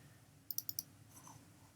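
Four quick, crisp computer mouse clicks in a fast burst, near and fairly quiet over faint background hum, with no talking.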